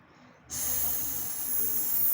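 A voice imitates a snake's hiss with a sustained breathy "sss" that starts abruptly after a short quiet lead-in and holds steadily, close and fairly loud, to the end.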